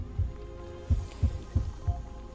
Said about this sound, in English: You focus your mind trying to sync your heartbeat's rhythm